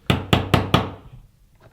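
Four firm knocks on a bedroom door, evenly spaced and close, then quiet.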